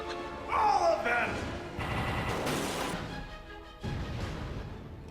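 Rapid cartoon gunfire bursts from a LEGO Marvel's Avengers game cutscene crackle over a swooping whistle-like effect, with impacts and crashes in layered, busy bursts.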